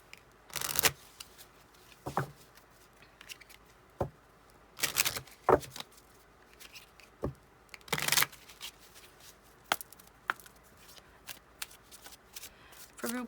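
Tarot cards being shuffled in sharp, crisp bursts with brief pauses between, close and fairly quiet, with no talking.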